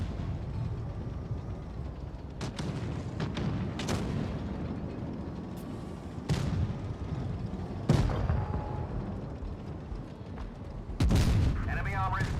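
Booming tank gun fire in a video game of armored combat, several heavy, widely spaced blasts over a continuous rumbling engine drone, with a voice briefly heard near the end.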